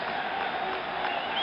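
A baseball crowd roars steadily for Graig Nettles at Yankee Stadium during the 1977 World Series, a dense, far-spread wash of cheering with no breaks.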